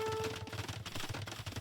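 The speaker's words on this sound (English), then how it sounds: "But blue has made some bombard cannons. He is shooting down this castle from red." Bombard cannons in Age of Empires 2 pounding a castle, a dense, rapid barrage of booming and crackling impacts layered over game music, loud and continuous with no speech.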